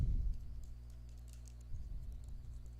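An email address and password are typed on a computer keyboard: quiet, scattered keystrokes in an uneven patter over a low room hum, with no one speaking.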